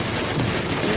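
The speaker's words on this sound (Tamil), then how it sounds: "மழை கொட்டுது செமையா." Heavy rain pouring down in a dense, steady hiss of broadband noise, close and continuous without any voices.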